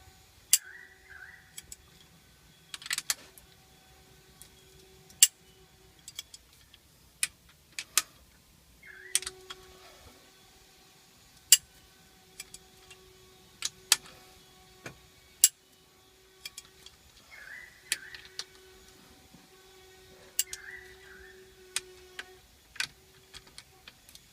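A torque wrench tightens the head bolts on a Ford FE 2-litre engine, giving a series of sharp, isolated clicks and ratcheting ticks spaced irregularly across quiet stretches, close and fairly faint.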